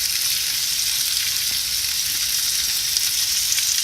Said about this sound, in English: Put some bacon on there.